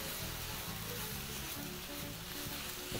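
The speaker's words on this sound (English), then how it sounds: "And now you can proceed to toss everything together in your pan." Liver stew for Kenyan mukimo sizzles steadily in a hot pan as the ingredients are tossed together, a constant loud frying hiss with no voices.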